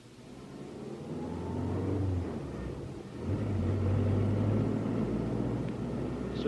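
A car engine rumbles and rises as the vehicle pulls away, revving steadily with a brief dip before climbing again, close and alone with no talk.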